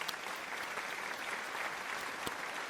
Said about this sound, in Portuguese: Grande parabéns, salvas de palmas